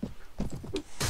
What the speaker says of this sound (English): There goes your horse.